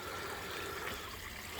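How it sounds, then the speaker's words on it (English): Water trickling steadily into a koi pond filter, a continuous soft wash of splashing without breaks, close and moderately quiet. "So yeah, I'm trickling water in"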